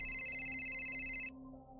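A telephone rings at home with a steady high electronic tone over a low hum, then stops abruptly, leaving the hum alone.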